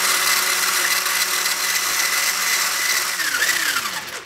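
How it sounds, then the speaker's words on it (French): An electric mixer whirs steadily at high speed, whisking egg whites with a pinch of salt into foam, a loud constant motor drone that pitches down near the end as it slows. "On va les monter au fouet"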